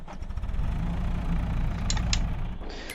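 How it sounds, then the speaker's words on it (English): A tractor engine in Farming Simulator 2023 runs at a steady low idle, a continuous mid-low rumble with a couple of faint clicks, no voices over it. "No, that also starts the engine as well."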